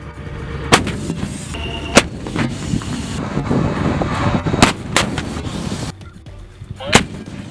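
A self-propelled artillery gun fires several loud, sharp booms at irregular intervals, over a constant rumble of a vehicle engine.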